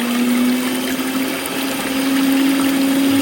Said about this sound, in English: Agora botou todos os ingredientes molhados e vamos bater.